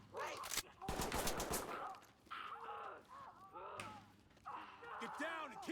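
A 7.62 rifle fires in a video game, in sharp, rapid bursts that come in two or three clusters with short pauses, loud and close, while someone talks between them.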